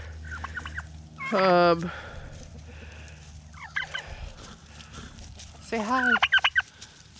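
Several farm turkeys gobble in loud, rippling bursts close by, one early and a longer cluster of rapid gobbles near the end, with a brief spoken word in between over faint outdoor background.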